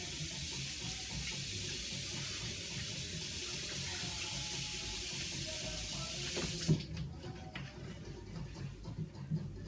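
Water runs steadily from a kitchen tap for washing after dicing tomatoes, a continuous hiss that suddenly cuts off, followed by faint clinks and handling sounds.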